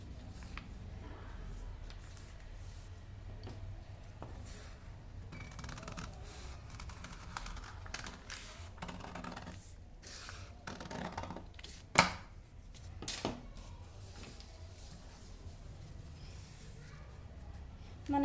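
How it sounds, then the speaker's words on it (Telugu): Scissors snip through a double layer of fabric during petticoat tailoring, a series of soft, irregular crisp cuts over a low steady room hum, with one sharper snip near the end. "డబుల్ కట్ చేస్తున్నాను."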